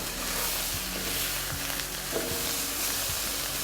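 Brussels sprouts sizzle and crackle steadily in a hot pan as they are stirred around, with a constant close frying hiss and occasional soft scrapes and clicks of the utensil.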